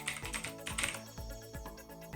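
Quick typing on a computer keyboard to fill in an online form, a string of close, crisp key clicks in an uneven rhythm.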